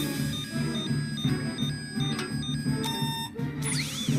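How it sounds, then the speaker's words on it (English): The Ecto-Exodus alarm from the Danny Phantom cartoon beeps in a repeating electronic pattern over background music, loud and close, ending in a swooping sweep. "It's the Ecto-Exodus alarm."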